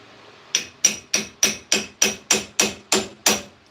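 An old cobbler's shoe repair last used as a hammer, striking ten sharp, evenly spaced metallic blows in a steady rhythm, close and loud with short ringing decays.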